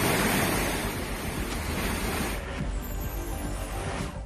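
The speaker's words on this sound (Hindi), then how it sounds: "बादल फटने के बाद आया था फ्लैश फ्लड, पानी के तेज बहाव में खतरनाक हुए हालात" Flash flood water rushes after a cloudburst, a loud, dense, continuous roar of fast-flowing water with wind-like turbulence, steady and close with no voices.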